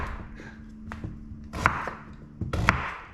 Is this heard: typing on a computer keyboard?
no